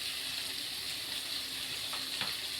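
A paste of turmeric, ginger and cumin frying in a pan, giving a steady hiss of sizzling oil throughout with a couple of faint stirring clicks near the end.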